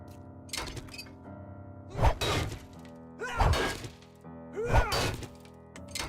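In 7 Days to Die with the Darkness Falls mod, a wrench lands power attacks on blocks while harvesting. Three heavy, evenly spaced thwacks crack out loud over a faint droning background.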